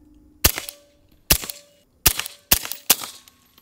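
A suppressed gun fires subsonic rounds at a steel target, five sharp close cracks spaced unevenly, each followed by a short metallic ring from the struck steel, with near silence between shots.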